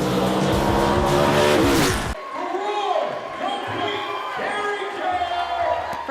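A race car driving at Toledo Speedway, with a loud engine roar and tire noise that cuts off abruptly after about two seconds, followed by quieter busy ambience with voices.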